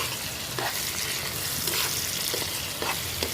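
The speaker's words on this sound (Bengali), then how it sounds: "সব কিছু আমরা একটু ভেজে নিব" Whole fennel and cumin seeds fry in hot oil for a chicken mumtaz gravy, giving a steady close sizzle with occasional stirring scrapes, no voices.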